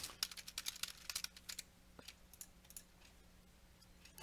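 Rapid clicking keystrokes on a computer keyboard, close and crisp, coming in quick irregular bursts that thin out toward the end, with no talk.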